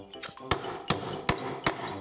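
A hammer strikes an advent calendar box in four sharp, evenly spaced blows, each a loud close knock over a faint rustling background.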